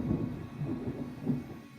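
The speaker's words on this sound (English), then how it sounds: "Thunder." Low, rolling thunder from a storm brewing overhead, heard as a continuous deep rumble with three swelling pulses, fairly loud and alone with no voices.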